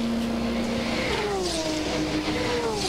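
An LMP2 prototype race car, number 38, at the 24 Hours of Le Mans, its engine note loud and steady as the pitch climbs and then sweeps down through the gears, with no voices over it.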